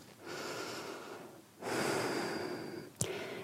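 Deep yoga breathing during a beginner weight-loss session, two long noisy breaths close to the mic, an inhale then a stronger exhale, ending with a short sharp click, no speech.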